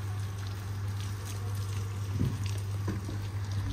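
Water from an opened hose or tap splashing steadily onto midday-wilted garden plants, a continuous broadband wash with a low steady hum beneath, no voices.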